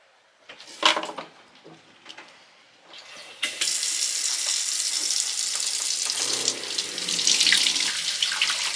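Running water from a tap into a sink while laundry is washed by hand aboard a sailboat, with a few clunks and splashes first, then a steady loud gush.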